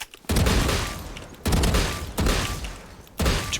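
Weapon gunfire in the video game Valorant: three loud bursts of rapid shots, each sustained about a second or more, separated by brief pauses, close and dominant.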